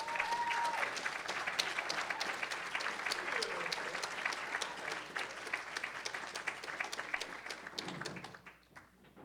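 An audience claps and cheers to welcome Mark Joshua Epstein to the stage at a reading event. The loud applause runs steadily before tapering off into quiet near the end.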